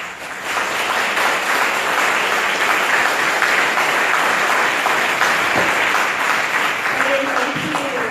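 A conference audience applauds to welcome a speaker at an executive speaker series event, a steady wash of many hands clapping that swells quickly and holds evenly throughout, with faint speech surfacing near the end.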